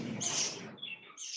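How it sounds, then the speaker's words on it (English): High-pitched chirps from pet birds, a short run of bright, thin calls over a noisy background, fairly close and moderately loud. "Your birds are also chirping."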